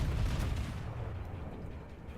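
Naval guns of the German cruiser Karlsruhe fire in World of Warships, a dense rumbling barrage of low booms that gradually fades over a couple of seconds.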